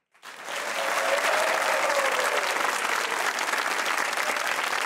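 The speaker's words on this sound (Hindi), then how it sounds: "तालियां बजाइए" An audience breaks into applause after a brief pause, quickly swelling to sustained, dense clapping that holds steady until the end.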